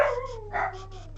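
Dog whimpering and howling with a drawn-out, sliding high whine that rises again midway, fairly close and moderately loud over a low steady hum.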